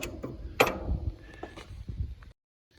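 A bolt being wrenched on a 1977 MGB gives off a quick run of close metallic clicks and ratcheting, with one sharp louder snap near the start, followed by faint mechanical ticks before everything goes silent.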